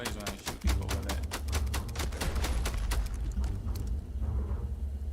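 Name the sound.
gunfire from a gun in video game Starfield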